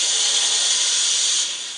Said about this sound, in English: letting out that steam at pressure